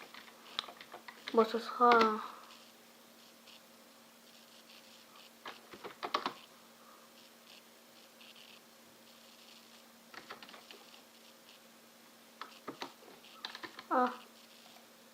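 Short bursts of typing on a computer keyboard, uneven clusters of quick clicks spread across the stretch with pauses between, close by, while someone speaks French and a steady low hum runs underneath.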